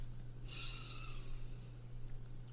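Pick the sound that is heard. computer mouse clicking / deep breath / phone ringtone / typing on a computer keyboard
deep breath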